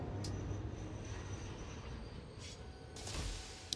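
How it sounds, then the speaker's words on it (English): A train in the video game Satisfactory rolls into a station, a steady low rumble of rail wheels with brief high squeals near the start and again toward the end, continuous and fairly loud with no talk. "It's just pulling in up there."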